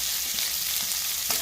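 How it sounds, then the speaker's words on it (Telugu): Sliced medium onions and fresh curry leaves frying in a pan for a gongura boti curry, a dense continuous sizzle close up with faint stirring scrapes. "మనకు గోల్డెన్ కలర్ వచ్చేదాకా బాగా ఫ్రై చేసుకోవాలి"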